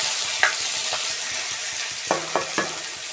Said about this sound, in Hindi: तो अब मैं यहाँ पर टमाटर अपने हाथों में डाल दूँगी।